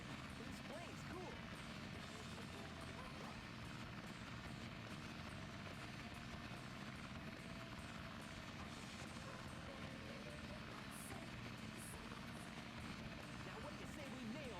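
A plane in the Sonic Adventure DX video game drones with a low, steady engine rumble, continuous and fairly quiet, under game voices.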